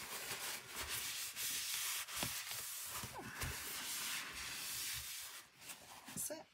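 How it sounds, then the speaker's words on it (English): Steady abrasive rubbing as a fabric- or paper-covered book cover is smoothed down by hand, a continuous dry scratchy hiss with rhythmic strokes, close up, with a voice faintly underneath at times. "let me just give it a rub down"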